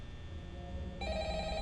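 A telephone in the video game Choo Choo Charles rings with a steady electronic bell tone that grows brighter partway through, heard clearly with no talking.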